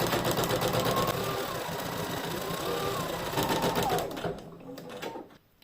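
A domestic embroidery machine runs steadily, stitching a satin finishing line on a terry towel appliqué with water-soluble stabiliser underneath: a fast, even mechanical needle chatter and motor hum, loud and close, until it stops near the end.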